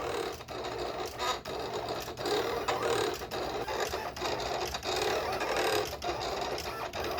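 A Silhouette print-and-cut machine works its auto blade with a continuous whirring, buzzing motor broken by quick repeated clicks and brief pauses, close and steady.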